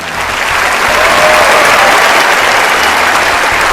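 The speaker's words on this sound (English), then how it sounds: "Can we just give this guy a round of applause?" Round of applause from a studio audience: clapping swells quickly after a brief start, then holds as a dense, loud wash of many hands for the rest of the clip.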